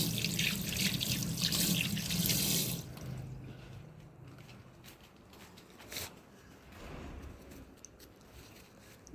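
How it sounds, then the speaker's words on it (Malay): Tap water runs loudly into a sink for about three seconds as hands are washed, then drops to a quieter trickle and splash with faint drips and a few knocks; nobody speaks. "Aku nak basuh tangan sekejap."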